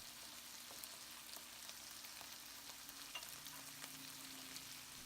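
A sauced lettuce-cup filling cooks in a pan on medium heat with a soft, steady sizzle and faint stirring, quiet throughout.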